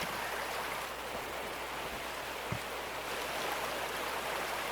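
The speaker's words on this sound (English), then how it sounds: "rinsing all of them out in the bucket" Steady rushing, splashing water as hog pan mats are rinsed out in a bucket at a gold wash plant in Gold Mining Simulator, a continuous broadband wash with one faint knock partway through.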